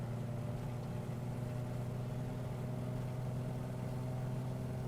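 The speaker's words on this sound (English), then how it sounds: "Let's power up the left engine a bit more than the right." Aircraft engines in Microsoft Flight Simulator hum steadily at moderate volume, a continuous droning tone with no talk over it.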